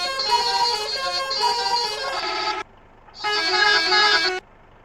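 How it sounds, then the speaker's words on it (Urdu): Indian Tata truck horn in a truck simulator game, a loud sustained bright honk lasting over two seconds, then a brief pause and a second shorter blast, close and alone. "یہ ہارن چیک کریں۔"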